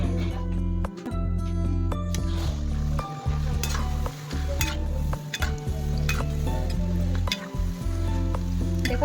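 Namkeen fries in hot oil in a kadai, with a steady close sizzle broken by repeated metal scraping and stirring clanks, and faint background voices at moments.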